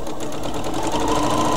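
A sewing machine runs steadily, stitching close along the edge of the trim on a baby bib, a loud continuous mechanical whir with no pauses and no talking.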